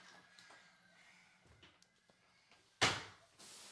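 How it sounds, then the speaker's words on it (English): A door swings shut in a room, giving one sharp, fairly loud bang near the end, after quiet stretches of faint household noise and light movement. "Shut that door."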